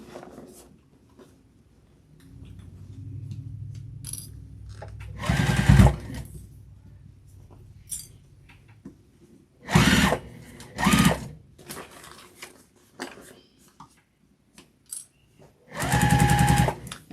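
A sewing machine runs in several short bursts as it stitches a tote bag, each burst a close, buzzing whir lasting a second or so, with quiet handling noises and pauses between the runs.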